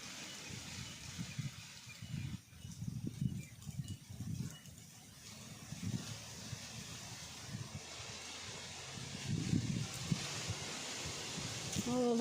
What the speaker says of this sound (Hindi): ओ भाई हवा चल गई जोर से